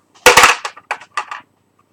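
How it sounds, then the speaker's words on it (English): Horse hooves kicking, played as a sound effect during a Curse of Strahd tabletop session: a burst of sharp, loud impacts followed by three or four quicker knocks spaced apart, close and dry, then silence. "That was the sound of those hooves in your face."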